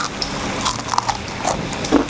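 Someone bites into freshly fried battered green beans close to the mic, a few crisp crunches in quick succession with a louder crackle at the end.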